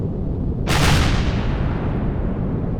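A single loud rocket launch in the video game Empyrion bursts out with a sharp whoosh that trails off into a low rumble, over a steady engine drone.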